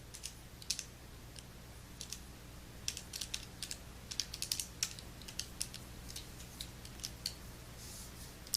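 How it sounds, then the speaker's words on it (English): Calculator buttons are pressed one after another while entering a physics problem, a faint series of small irregular clicks over a low steady hum, quiet and close. "let's go ahead and type that into the calculator"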